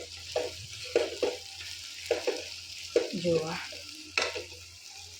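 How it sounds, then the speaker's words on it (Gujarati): A spoon stirs chopped tomato into vegetables frying in a pan, giving steady sizzling broken by several scraping strokes, with someone speaking briefly over the cooking. "ટામેટું નાખી અને પછી એના આ રીતે કમ્પ્લીટ મિક્સ કરી દેવાનું"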